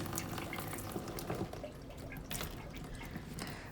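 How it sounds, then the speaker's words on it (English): Water drips and trickles from a Berkey filter spigot after flushing, a continuous splashy stream with scattered drips, close and alone. "Yep, there's a lot of water coming out of this"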